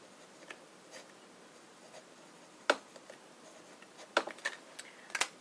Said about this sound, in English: Bit of writing.